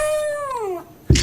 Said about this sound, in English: Lorna the dog says hello.